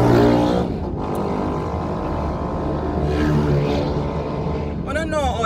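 Two noisy motorbikes roar past fast, a loud engine whine that swells and fades with rising and falling pitch, mixed with nearby traffic noise and a person talking.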